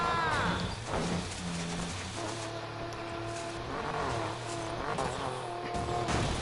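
A muscle car races in Need for Speed Payback, its engine revving and shifting through gears, with tires squealing and the car rushing past, steady and fairly close.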